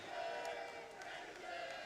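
Esports tournament crowd cheering and roaring in a large arena, a dense steady wall of voices held loud throughout, with a few louder shouts rising out of the din.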